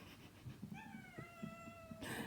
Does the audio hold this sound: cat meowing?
yes